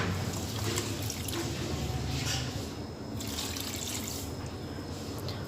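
Two cups of water pour steadily into a cooking pot for kabab mixture, a continuous close, even splashing rush with no talking.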